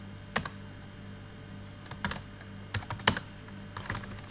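Keys clack on a computer keyboard as vim commands are typed in a server terminal. A few short separate bursts of key presses sit over a low steady electrical hum.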